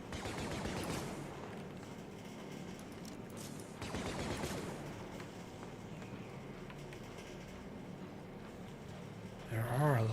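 Gunfire and fusillade-like bursts in the Star Wars Death Troopers video game, dense and continuous across the clip with a louder surge near the end, under a player's voice.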